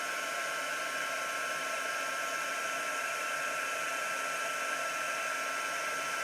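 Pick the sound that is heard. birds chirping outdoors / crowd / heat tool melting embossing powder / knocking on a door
heat tool melting embossing powder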